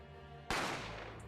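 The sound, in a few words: gunshot sound effect from the video game The Great Ace Attorney Chronicles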